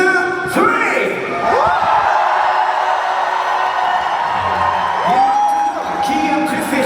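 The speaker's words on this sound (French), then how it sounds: "And cheer as loud as you can on the count of 3." A theme park show audience at an Alice in Wonderland stage show cheers and shouts together, a loud, dense crowd roar with rising whoops that holds steady for several seconds.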